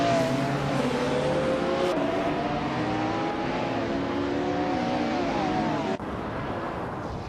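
Racing-game engines drone steadily with shifting revs, including a 1996 Mitsubishi among the field. A dense, continuous roar holds throughout, with a brief dip near the end.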